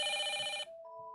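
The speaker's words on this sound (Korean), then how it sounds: "또다시 울리는 전화." Telephone ringing loudly in an office late at night, a harmonic electronic ring that stops abruptly, followed by a softer steady tone.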